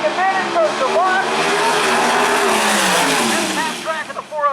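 Drag race cars at a PDRA North vs South Shootout at Maryland International Raceway launch and accelerate hard down the track, engines screaming with rising pitch, loud and close, while an announcer talks over them.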